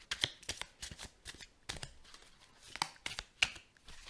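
Oracle cards shuffled by hand at close range, rapid papery riffles and soft slaps coming in quick uneven bursts with no voice over them.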